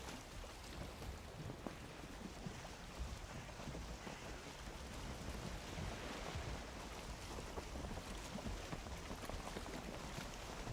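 Boat sailing across ocean waves in the survival game Valheim, a faint, continuous wash of surf and water rushing with wind, steady throughout and with no talking.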